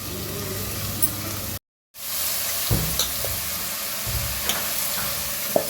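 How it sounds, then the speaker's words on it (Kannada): Washed rice tipped into a pot of browned fried onions sizzles with a steady, loud frying hiss, broken by a brief drop-out and small clattering stirs. "ಇವಾಗ ನಾನು ತೊಳೆದಿಟ್ಕೊಂಡಿರೋ ಅಕ್ಕಿನ ಹಾಕ್ಕೊಳ್ತೀನಿ."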